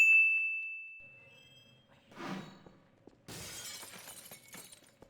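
Glass shattering in the video game Half-Life: Source, with a ringing tone fading out, then a thud, then a loud burst of breaking glass followed by scattered tinkling shards, fairly close.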